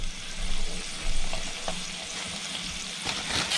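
Octopus hot dogs sautéing in a pan with spices, giving a continuous close sizzle and crackle with soft scraping stir sounds and a few sharper pops near the end, no talking.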